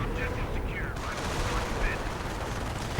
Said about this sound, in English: And now we're hearing artillery.